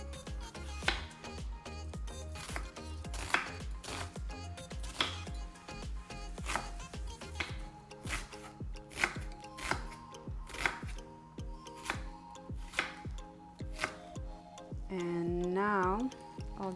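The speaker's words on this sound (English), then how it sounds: "dicing the onions and then spreading the bottom" A knife chops diced onion on a cutting board in a regular, crisp rhythm of sharp taps, heard over background music for a vegan Shuba Russian salad.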